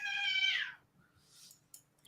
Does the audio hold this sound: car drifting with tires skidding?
no